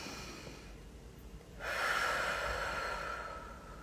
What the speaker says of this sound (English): take a couple of deep breaths. So in through the nose, blowing it out through the mouth